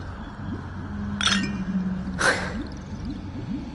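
Glasses clink twice in a toast in the video game Honkai Star Rail, two short bright chimes about a second apart over soft background game music.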